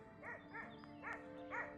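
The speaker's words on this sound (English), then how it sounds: "The dog's still at it again." Dog at a desert camp in Wadi Rum barking four times in a quick rhythm, faint and somewhat distant over a quiet background hum.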